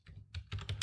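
A handful of quick keystrokes tap on a computer keyboard while a Slackpkg command is entered, close and fairly quiet clicks in a short uneven run.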